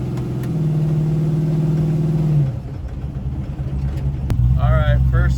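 Chevrolet S10 pickup engine in Arizona heat, a steady idle hum that drops as the truck pulls away, then a low rumble with a brief rise in revs near the end.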